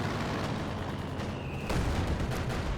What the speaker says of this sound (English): Shooting down some planes there.